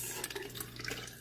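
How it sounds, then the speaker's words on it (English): Cold water pours into hot tea and splashes down over ice, a steady close liquid rush with light trickling, heard alone. "Add your cold water right into your hot water, kind of like diluting the mixture, and then put it right on top of your ice"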